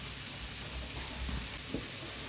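Lardons, pieces of bacon, sizzle steadily in a pan, giving a continuous soft hiss of frying fat with a few small pops, quiet and with no talking.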